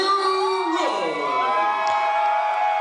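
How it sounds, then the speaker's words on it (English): Wrestling crowd roars and shouts in reaction to the challenger Hollis Giroux, a dense, loud wall of voices with a long rising-and-falling shout carried over it. "you can hear the response from the crowd almost immediately"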